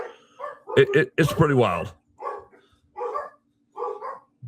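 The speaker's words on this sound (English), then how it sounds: "And my dogs are going wild, as you can hear right now" Several dogs bark in short bursts in the background, set against someone speaking over them at close range.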